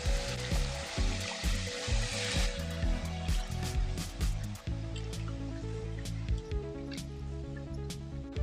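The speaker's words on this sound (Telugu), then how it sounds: "పాలకూరని తాలింపులో వేసుకుంటున్నాను" Spinach frying in tempering oil in a pan for a palak egg curry, a steady close sizzle and crackle running throughout, with occasional stirring scrapes and a background tone, with no one talking.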